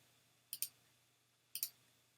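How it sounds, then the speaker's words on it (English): Two quiet, sharp double clicks of a computer mouse, about a second apart, during design editing in Cricut software, with nothing else audible. "I'm going to go ahead, again, just clicking on the areas that I do not want to keep."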